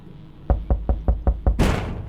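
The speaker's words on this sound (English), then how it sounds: "There's a bang on the door." Six evenly spaced heavy bangs of a fist knocking on a door, loud and close, followed by a brief rustling clatter.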